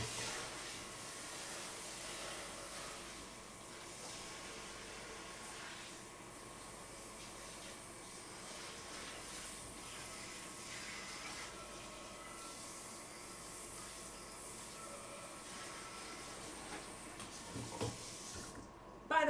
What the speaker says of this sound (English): And now I immediately need to rinse the pan